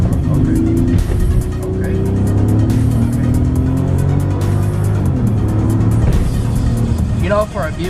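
A 2008 Bentley Continental GT with its W12 engine pulls hard under acceleration, a loud, steady rising drone heard from inside the car, with a single brief spoken word near the start.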